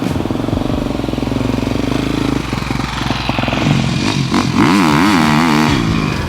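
A 2019 Husqvarna FC350 dirt bike engine idles with a rapid, gritty pulse, then revs up and down in several sharp bursts that rise and fall in pitch. The engine is close and loud, with no voices.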